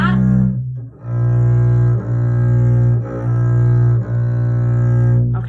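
An electric bass sounds a sustained low B flat, plucked repeatedly in a steady rhythm of about one note per second, each note ringing strongly with rich harmonics, close and loud with no talking.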